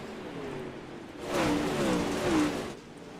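Race cars on a speedway coming out of turn two onto the back straightaway, engines droning and rising in pitch as they sweep past, moderately loud with a slight Doppler swell.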